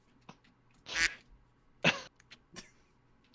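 Several short duck quacks arrive in separate bursts, two of them loud and the rest quicker and fainter, sent in by a stream viewer against near-silence during a live stream of Ace Attorney.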